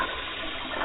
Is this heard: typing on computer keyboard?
no